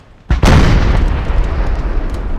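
Eight-pounder artillery cannons firing in Napoleon Total War during the siege of Vienna, a short crack then a heavy, loud boom that rolls into a long rumbling wash of distant battle noise.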